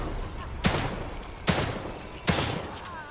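Gunfire in the survival horror game The Evil Within 2: three sharp, loud shots spaced about a second apart, each with a short echoing tail over a quiet ambient background.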